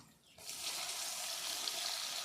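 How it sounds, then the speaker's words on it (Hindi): Water pours steadily into a cooking pot, starting abruptly after a brief quiet moment and continuing as an even, splashing rush until the end. "चलो कि तुम पानी डालो तुम"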